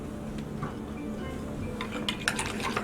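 Empanada filling stirred with a few drops of Persian lime juice, giving soft scraping and a few light clinks toward the end, quiet and close with no talking.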